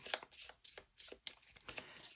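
Cards being shuffled for a solo tabletop game, a series of quick soft riffling and flicking bursts in uneven rhythm, close and fairly quiet, with no talking.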